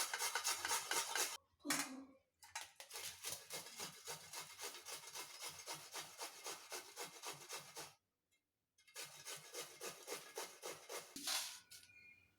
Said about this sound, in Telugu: మిర్చి, అల్లం, బీరకాయలను వీటిని తురిమేసి కొద్దిగా పిండిలో వేసేసుకుంటున్నానండి